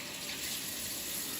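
Water running steadily from a tap during hand washing, a close, even hiss and gush with no voices over it.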